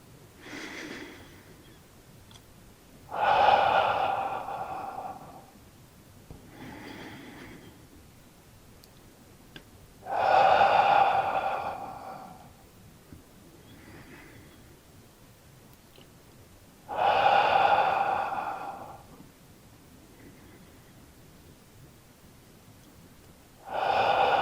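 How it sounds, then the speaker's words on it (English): Slow, deep breaths in and out during tai chi practice, each long airy inhale or exhale swelling for a few seconds, separated by quiet pauses in a steady, calm rhythm, close and clear with no talking. "Inhale up. Exhale down, breathing in, breathing out"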